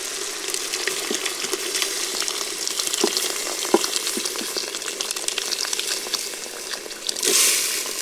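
Spices and oil frying in a pan at a jungle campsite on a winter night, a steady close crackling sizzle with small pops and stirring scrapes throughout, and a brief louder hiss near the end.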